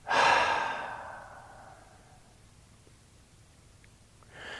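A long, close exhale during a guided meditation opens with a breathy sigh and slowly tapers over a couple of seconds into near silence, with a faint start of another breath at the very end.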